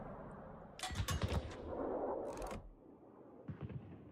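Naval guns fire in the World of Warships video game, a rapid cluster of booming salvos followed by a rumbling roar, a sharp blast, and a few more distant shots near the end.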